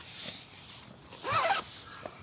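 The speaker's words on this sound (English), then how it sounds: "Zips right up." A zipper on the hood of a down jacket is pulled up in one quick close rasp, with faint rustling of the fabric before and after.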